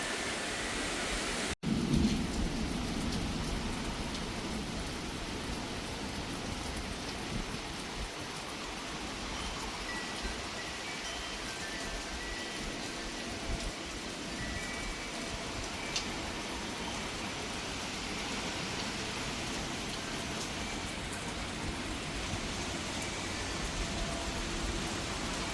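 Steady hiss of heavy rain during a thunderstorm, with a single sharp crack of thunder early on and a continuous dense wash of rainfall after it; no one speaks.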